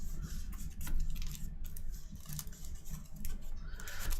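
Cards from a DC Deck-Building Game deck are shuffled by hand, producing a run of quick, dry riffling and rubbing bursts, close and fairly quiet with no talking.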